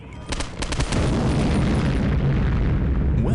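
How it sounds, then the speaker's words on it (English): In the Postal 2 video game, an explosion that throws up a mushroom cloud begins with a few sharp cracks, then swells into a loud, sustained rumbling roar that carries on without letting up. "with a mushroom cloud rising and gore still raining down"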